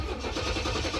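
A Chevy car engine turns over and settles into a steady, loud idle while warming up, with a continuous low rumble and no talking.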